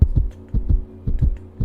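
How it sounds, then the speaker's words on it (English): A rapid heartbeat pulses in low, thudding double beats, repeating about four times in quick succession, loud and close with no other sound. "rapid heartbeat"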